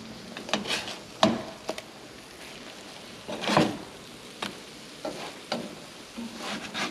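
Large eggs fry in a pan with a constant soft sizzle. Sharper crackles and pops flare up now and then, including a louder burst midway.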